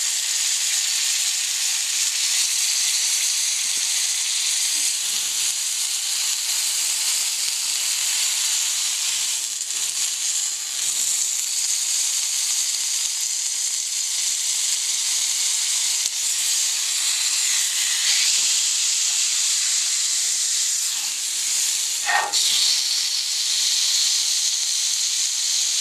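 A bone-in New York strip steak sears on its edges in a hot pan, giving a steady, loud sizzle and hiss that runs without a break, with small pops and crackles rising now and then.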